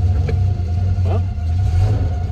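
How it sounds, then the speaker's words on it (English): A dry throwout bearing whirs in an old car on its first drive after thirty years off the road, a faint steady whine over the continuous low engine and road rumble throughout. "you can hear that there's definitely a throwout bearing that's mighty dry"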